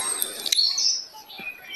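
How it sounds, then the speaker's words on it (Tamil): Birds chirp and tweet in short bright bursts, a few quick calls up front followed by a softer trailing whistle, fairly close and clear, with no talking. "அழகான ஓசையை எழுப்பும் பறவைகள்"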